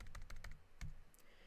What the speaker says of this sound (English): I type in number of downloads, and I type in these numbers